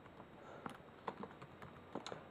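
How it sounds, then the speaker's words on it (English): Keys clack on a Commodore 64 keyboard in quick, uneven taps, close but fairly quiet over a steady background hiss. "It's for the Commodore 64, and we'll just type it in."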